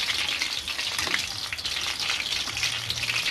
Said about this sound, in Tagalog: Ito na yung lumpia wrapper, dinip-fry ko lang